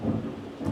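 A low rumble of thunder rolls through, strongest at the start and swelling again near the end, with faint rain hiss beneath.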